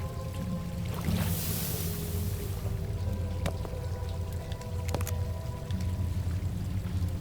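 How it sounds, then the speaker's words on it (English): Hot metal mold plunged into water in the horror game True Fear: Forsaken Souls, a steady pouring, bubbling wash of water with a few sharp clinks and drips, no talking. "We have to cool it in the water."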